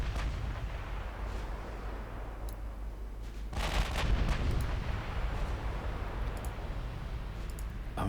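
Naval guns on cruisers blast away continuously in the Ultimate Admiral Dreadnoughts game: a dense rumbling barrage of overlapping booms with sharp cracks, swelling louder midway, with no talk.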